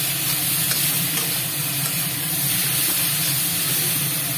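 Jaggery sizzles steadily in a hot pan while being fried for the Odia dish sapuri khata, a close, continuous hiss and crackle with no voices.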